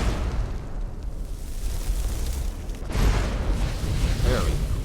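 A Firebolt fire spell ignites flammable objects in the Enderal Skyrim mod, making a steady, dense roaring burst of flame that swells louder partway through and keeps rushing to the end.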